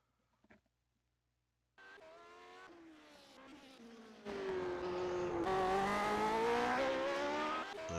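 Lotus 79 race car on a warm-up lap around the Long Beach street circuit in iRacing, engine note entering after a brief click, then revving louder and higher through gear changes, steady and fairly close.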